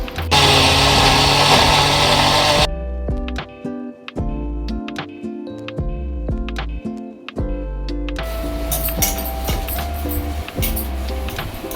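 A mixer grinder grinds fresh coconut in a home kitchen, giving a loud, dense whirring burst at the start and again at the end, with tonal music-like notes in between.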